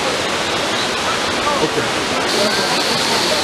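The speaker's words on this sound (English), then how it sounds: "pretty much here at the site of Dumbala, as you can see, it's by a waterfall" A waterfall at the Dumbala site in Haiti roars steadily and loudly as dense, continuous rushing water, with a brief spoken word over it.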